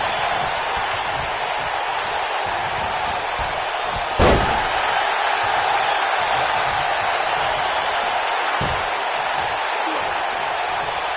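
A wrestler slams an opponent to the mat in a PS4 wrestling video game, a single heavy thud rising over steady crowd roar, with a softer second impact a few seconds later.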